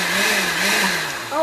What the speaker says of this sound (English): So then we just pulse and get this smooth like pesto.